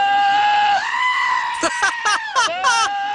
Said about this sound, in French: Reçois ce chèvre qui hurle directement sur ton mobile